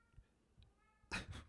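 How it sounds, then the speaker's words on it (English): Roscoe, a pet cat, gives a short, fairly loud meow in the background after a quiet stretch, with faint breathy noises before it. "Roscoe's in the background meowing because he wants to come out."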